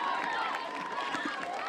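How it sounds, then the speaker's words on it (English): A steady wash of crowd noise fills Dilboy Stadium as the happy crowd cheers after a high school boys' soccer playoff match between Somerville and Andover, with scattered voices blending into the roar. "And a very happy crowd here at Dilboy Stadium."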